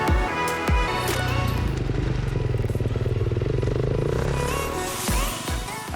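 A motocross motorcycle on a dirt track after a suspension adjustment roars past loudly, its engine note rising and falling with steady rapid firing pulses and some clattering.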